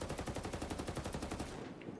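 Sustained full-auto bursts from an ACR assault rifle in the video game Ghost Recon Breakpoint, rapid evenly spaced shots rattling loudly for nearly two seconds before cutting off.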